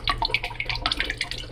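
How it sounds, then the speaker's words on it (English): Soy sauce trickling from a bottle into a cup of water, a quick run of light splashes and drips, close and fairly loud, ending in a sharper splash. "in this cup I'm just going to add a little bit of soy sauce"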